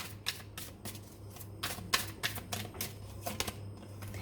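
Tarot cards are shuffled and drawn in a run of sharp, crisp riffling snaps that come in quick irregular bursts, close and fairly quiet, over a faint steady hum.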